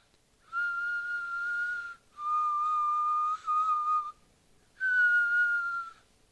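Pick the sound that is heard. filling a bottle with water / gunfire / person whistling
person whistling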